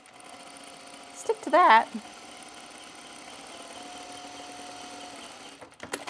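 A sewing machine stitching the 1/4-inch neck seam of a jacket, running in a short loud burst of about half a second, then a low hum and a faint tone, with a speaking voice nearby.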